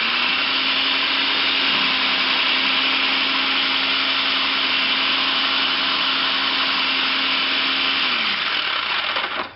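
A Black and Decker food processor slicing peppers, its motor running in one loud, steady whine for several seconds before abruptly winding down at the end, no speech over it.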